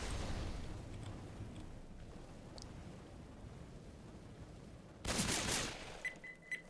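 Gunfire from the co-op zombie shooter Left 4 Dead 2, with a soft low rumble under faint background noise, then a loud burst of shots near the end.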